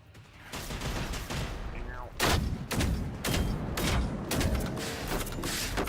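Gunfire in the Generation Zero video game, a dense fusillade of repeated shots and thuds arriving in bursts, loud and close, with a steady noisy backdrop between volleys.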